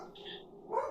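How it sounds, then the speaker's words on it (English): A dog named Morgan barks once at a passing bird, a short, mid-loud woof near the end, preceded by a higher whine-like tone, with no talk over it. "Morgan is doing his job, which is to bark at any bird that flies by"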